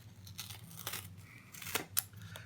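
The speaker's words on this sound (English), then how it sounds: "all I did was cut open the pouch" Scissors snip open a plastic pouch holding a vinyl sticker, a few quick, close crisp cuts and crinkles over about two seconds, with no one talking.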